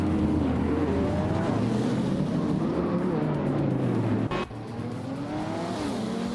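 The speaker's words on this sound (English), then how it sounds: "Nudes is driving a 2003 Ferrari 575M Maranello" A 2003 Ferrari 575M Maranello's engine drones loudly and steadily in a racing video game, its pitch rising and falling through gear changes with a brief sharp dip partway through.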